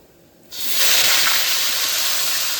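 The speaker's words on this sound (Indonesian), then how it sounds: "kita goreng sekali lagi kepalanya ya, satu lagi" Tilapia fish heads drop into hot oil and set off a sudden loud, bright sizzle. A steady hissing spatter then carries on close up, with no talking.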